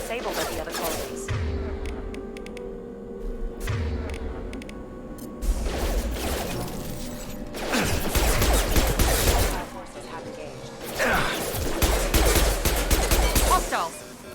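Colony defence turrets firing in Mass Effect 2, loud sustained bursts of automatic fire that swell and fade in several waves, with mechanical clatter and heavy impacts between them.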